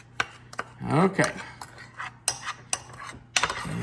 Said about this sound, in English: So let's just stir that up. I'm going to actually get a spoon to do that.